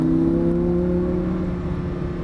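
A Lamborghini Huracan LP610-4 engine pulls steadily on a race track, a close, loud sustained drone with stable tonal harmonics that ease slightly as it goes.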